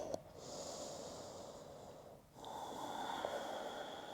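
Deep, slow breathing during a yoga session: one long, airy inhale, a short pause, then a long exhale, close and steady with no speech.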